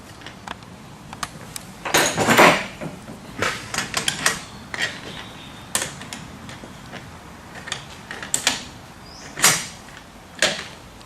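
Metal clicks, taps and knocks of lock nuts being tightened on a door hinge jig, irregular bursts of clattering with short pauses between, close and fairly loud.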